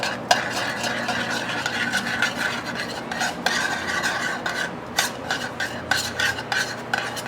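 A double-yolk jumbo egg mixture being stirred in a bowl, a steady scraping and clinking of utensil against the bowl that carries on close and fairly loud for several seconds, with no talk.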